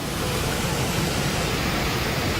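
Dense, steady roar of a waterfall with continuous rushing white-noise texture, loud and unbroken, with no voices.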